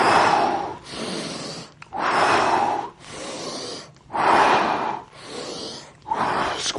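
Concentrated breathing during bodyweight squats in a low-impact beginner morning workout: four long, loud, close-up breaths in a steady rhythm, each a broad airy rush separated by short pauses, with no talking.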